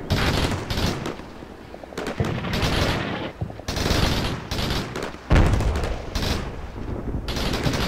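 Video game artillery in Combat Mission Shock Force fires for effect, a dense barrage of heavy booms and rattling blasts overlapping continuously, loud and close, with one especially sharp impact partway through.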